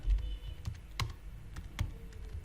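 Quick keystrokes on a computer keyboard while entering text into a table in AutoCAD, a handful of crisp clicks in an uneven rhythm, close and fairly quiet, with no talking.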